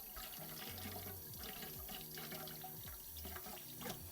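A wire whisk is rinsed under a running kitchen tap, a steady close wash of water with small splashes and shifts as the whisk moves through the stream.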